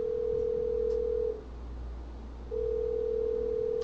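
A steady phone tone rings out over a low hum, holding for over a second and then returning after a brief gap, clear and unbroken with nobody speaking.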